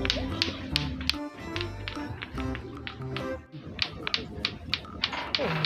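Repeated knocking taps, a sharp cluster of raps recurring through a Bugis-language comedy drama scene, loud and near over background music and a low voice.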